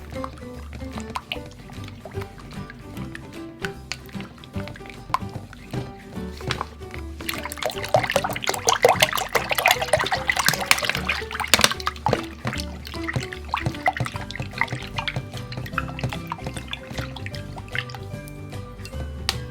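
Water poured into a container of thick glue and stirred, a steady liquid pour and sloshing that swells midway and then continues as wetter mixing and dripping sounds, close and with no talking.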